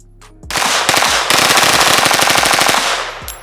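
Two Scorpion submachine guns fired akimbo at close range, a loud, sustained stream of rapid automatic shots lasting about three seconds with no talking.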